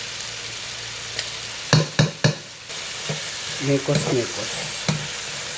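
Red onion and garlic sizzle in a hot pan for ginisang talong, with a steady frying hiss, a few sharp stirring clatters and brief bursts of spattering, while a voice speaks briefly.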